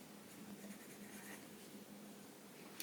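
A pen scratching steadily across paper during automatic drawing, with soft continuous strokes and small scribbling bursts, fairly quiet and close, with no talking.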